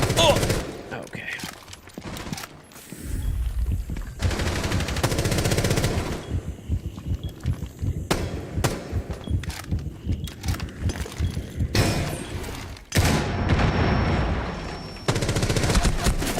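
Rapid automatic gunfire in the video game Rainbow Six Siege, with repeated bursts and short pauses over most of the stretch and a voice talking at times underneath.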